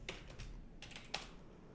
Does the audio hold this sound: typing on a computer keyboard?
yes